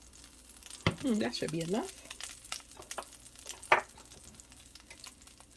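Flour browning in oil in a pan for smothered pork chops, with a whisk stirring through a soft sizzle, a few scraping strokes and a sharp clack, while a person talks.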